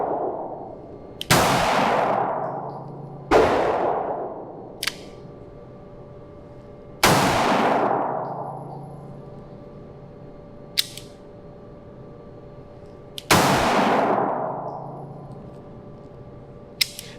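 Pistol fitted with a red dot sight fired at an outdoor range: four loud, close single shots spaced a few seconds apart, each with a ringing decay, plus fainter distant shots from other shooters between them.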